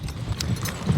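Two work horses, Ken and Bill, being driven in lines together step along, their hooves clip-clopping in a close, uneven run of several distinct thuds and knocks.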